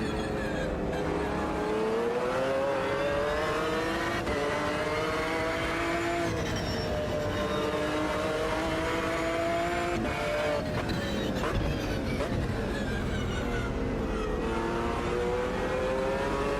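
A race car engine in Automobilista 2 on a night circuit revs hard through the gears, pitch rising and falling with each shift, with brief tire squeal, loud, close and steady with no talk.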